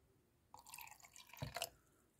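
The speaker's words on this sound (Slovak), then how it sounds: "Vlastne tu sa leje takto voda." Water poured into a doTERRA Lumo diffuser, a short splashing trickle lasting about a second with a brief louder splash near the end, close and alone.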